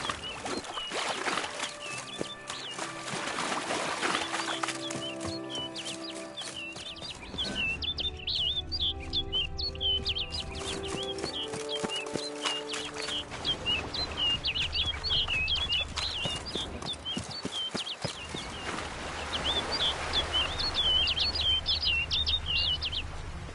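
Repeated high, bright bird chirps across a fantasy game landscape in The Witcher 3: Blood and Wine, with ambient music and soft hoofbeats underneath.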